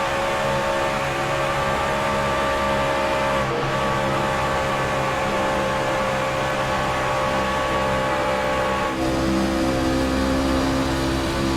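Racing trucks run flat out on a paved track, their engines roaring loudly and steadily with shifting pitch as they pass close by, with no talk over them.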